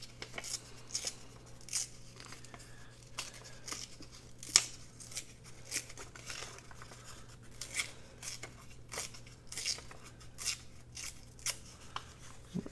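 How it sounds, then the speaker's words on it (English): A small piece of book page is being torn by hand in a quiet room, with a series of short, dry ripping bursts in an irregular rhythm, close and fairly soft. "So I'm just going to tear a little piece of book page."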